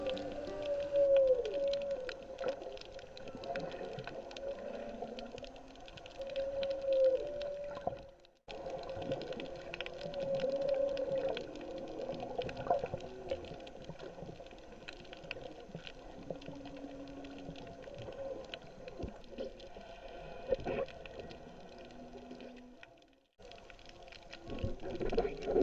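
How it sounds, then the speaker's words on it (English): Whale song drifts faintly through underwater ambience while snorkeling at Molokini off Maui, low moaning calls rising and falling over a steady bubbling, crackling wash of water and reef. "Listen very carefully and you can hear whales."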